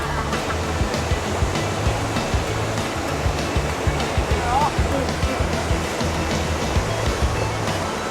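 Water pours steadily over a mini waterfall at Krueng Kaleung in Lamno, Aceh, a loud, continuous, nearby rushing roar with no breaks.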